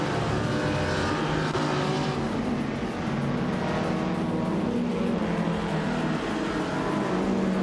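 A 1966 Lotus Cortina races on a figure-8 track in a video game, its engine roaring continuously and loudly alongside the buzz of other cars in the pack, with revs that rise and fall through the laps.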